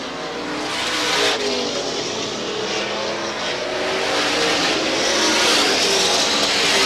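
Several 700 horsepower super modified race cars roar continuously past on a speedway oval, a loud, steady engine drone that swells slightly as they run wheel to wheel.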